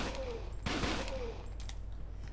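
Gunfire in the video game Fighting Force 2, a short burst of rapid shots over a steady game background, with a brief whistling tone running through it.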